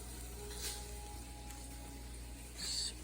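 Bacon frying in a pan, a faint steady sizzle under a low background hum, with a brief brighter hiss near the end and no talking.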